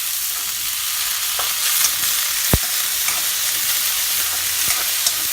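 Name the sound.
frying onion, potatoes and peas for kande pohe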